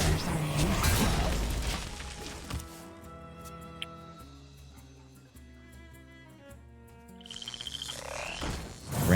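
A frog croak sounds amid layered Hearthstone game effects, with chiming musical tones and thuds, moderately loud and prominent in the middle of the sequence.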